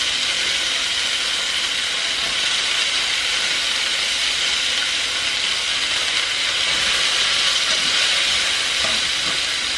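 Loud, steady sizzle of asparagus frying in olive oil in a pan, a dense continuous hiss heard up close.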